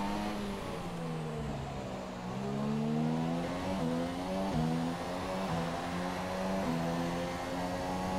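Formula 1 race car engine from F1 2017, a loud, continuous high-pitched whine that climbs and drops sharply through repeated gear shifts and revs, close and steady throughout with no talk.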